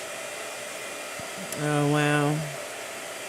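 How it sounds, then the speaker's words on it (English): Blow dryer running on a watercolor painting, a steady airy hum with a short exclamation from one person and a brief tonal sound in the middle over the airflow. "Oh no, blow dryer again?"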